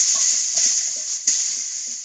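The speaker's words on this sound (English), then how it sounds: "We're getting all this in this big pot right now" Food tumbles and stirs into a big pot of pasta e fagioli over a steady sizzle, with a few soft scrapes and plops close by and no talking.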